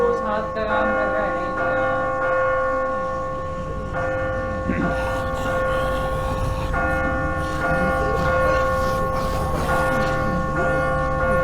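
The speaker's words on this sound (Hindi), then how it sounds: "ये चर्च की बेल्स हैं" Church bells ring continuously in a video game scene from The Walking Dead, a sustained layered tolling with overlapping rich tones and a dense background rumble, loud and steady throughout.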